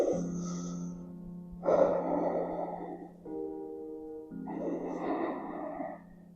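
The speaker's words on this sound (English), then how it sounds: "Inhale and exhale." Slow, deep breathing during a wide child's pose in a back-stretching session: a long audible inhale, then a breathy exhale, repeated over a soft, steady musical drone.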